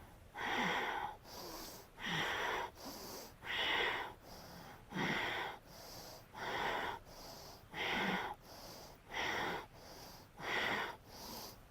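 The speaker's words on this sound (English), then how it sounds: "So I am going to inhale, exhale 10 times." Yoga breathing practice for the abdominal lock: forceful, rhythmic breaths repeat about a dozen times, each sharp airy rush close and clear, separated by short quieter gaps, with no talking.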